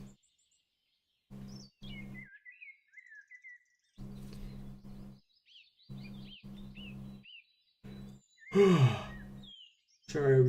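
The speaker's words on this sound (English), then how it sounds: "Sorry, we yawning." A person gives a long, drawn-out yawn that ends in a breathy exhale near the end, after a stretch of soft chirping birds and short, regular buzzing tones.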